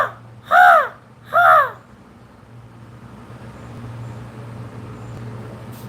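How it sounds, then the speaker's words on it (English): Two loud, harsh caws, as from crows flying overhead, come close together at the start. A steady hum of road traffic continues alone afterward. "making crow noises at the crows while they're flying overhead"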